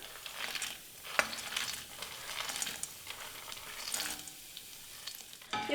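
Cut cashew pieces roast in hot ghee in a pan, giving a steady close sizzle and crackle with soft stirring scrapes and a few sharper clicks, no voices.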